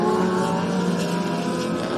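Historic touring cars from the 1960s and early 1970s, Minis and Cortinas, race at Winton, a loud, steady, multi-engine roar with layered revving tones and no break, close to the track.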